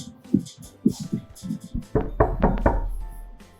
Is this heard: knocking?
yes